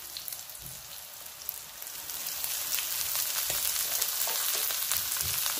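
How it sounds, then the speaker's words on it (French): Leeks added to onions already frying in a pan, a steady crackling sizzle that swells and grows denser, with scattered pops and no voices. "Je vais ajouter les poireaux."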